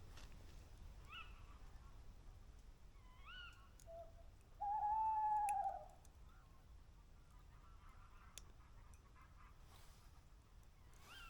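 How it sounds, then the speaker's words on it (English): Owl hoots faintly at night near a lakeside camp, a single clear hoot standing out among scattered goose honks and calls in a quiet outdoor setting. "Every so often I just hear it hoot amongst all the goose calls."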